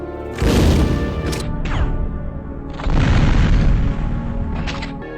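Grenade launcher firing explosive rounds in Resident Evil Survivor 2: Code: Veronica, two heavy booming blasts, each followed by a scattering rumble of smaller bursts that trails off.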